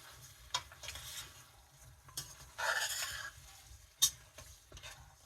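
Jamaican oxtail cooking in a pot, with soft stirring scrapes, light sizzling and a few sharp utensil taps against the pot over a quiet background.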